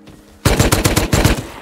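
Close, loud bursts of Thompson submachine gun fire in the survival video game Rust, a rapid string of about eight shots breaking in after a quiet moment.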